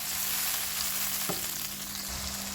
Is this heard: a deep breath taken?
no